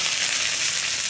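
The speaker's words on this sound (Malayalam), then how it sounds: "ഇനി നമ്മൾ നമ്മുടെ വറവ് ചട്നിയിലേക്ക് ചേർക്കുകയാണ്" Hot tempering sizzles steadily as it is poured into a green chutney for idli and dosa, giving a continuous, loud frying hiss with no talking.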